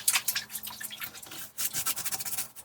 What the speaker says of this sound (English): let's clean the brush off again